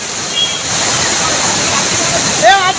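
Torrential floodwater roars down Old Courtallam waterfall in Tenkasi during a sudden surge, a loud continuous rushing wash, with a few distant shouts rising faintly over the torrent near the end.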